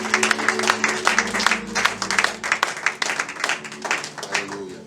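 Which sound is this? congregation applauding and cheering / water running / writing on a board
congregation applauding and cheering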